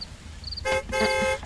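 A car horn honks twice in quick succession: a short blast followed by a longer, louder one, both close and clear against a quiet background.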